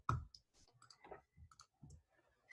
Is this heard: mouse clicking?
yes